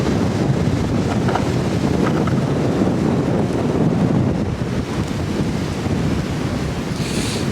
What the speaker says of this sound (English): the wind came back with a vengeance